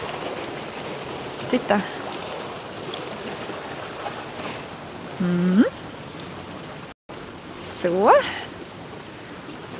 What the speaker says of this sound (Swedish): Man kan säga att det här är mini vattenfall.